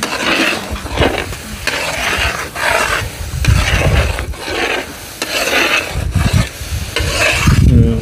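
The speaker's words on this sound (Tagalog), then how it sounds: "Kailangan haluin mo siya ng haluin" Three kilos of sticky glutinous rice cooking with coconut milk and sugar into biko are stirred in a pot, with loud, rhythmic scraping strokes repeating roughly every second, close and wet, with no talking.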